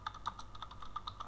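Quiet, close clicks from a computer keyboard as CSS code is typed, a quick even run of keystrokes.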